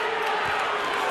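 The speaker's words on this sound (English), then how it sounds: "Now the crowd is fired up." A basketball arena crowd at a college game roars steadily and loudly in a dense, continuous wash of voices, with no single call standing out.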